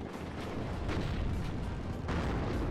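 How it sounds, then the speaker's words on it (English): Artillery barrages and explosions in the WARNO war game, a dense, continuous rumble of booms and blasts with repeated heavy impacts, loud throughout and with no talking. "there's a lot of artillery coming in"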